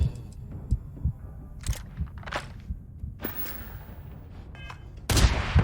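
Gunfire strikes the player in Starfield on a barren moon: a run of sharp, irregular impacts and shots, some close and heavy, scattered over a low rumbling game backdrop, ending in a louder burst.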